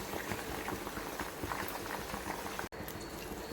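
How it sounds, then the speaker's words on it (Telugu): Hibiscus flower hair oil bubbles in a pot, a steady close rush of boiling liquid with one abrupt brief cut near the end, no speech. "ఇది మరిగిన తర్వాత చూపిస్తాను మీకు ఆయిల్."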